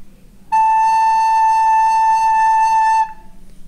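A recorder sounds a single clear note A, held steady for about two and a half seconds, close and fairly loud in a quiet room.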